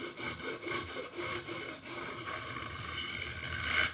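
A file scrapes back and forth across the metal frets and wooden fretboard of a Solar Headless 7 H2.7C guitar, making rhythmic rasping strokes up close that blur into a continuous grinding rub.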